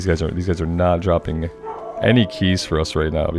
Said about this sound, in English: that is my dog telling me that there's a human being moving somewhere in the outside world